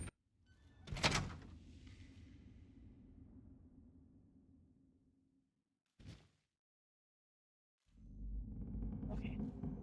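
A door opening in Fallout 3, starting with a loud thunk and then a long mechanical rumbling slide that fades out. After a short knock and a silence, a low steady ambient rumble begins.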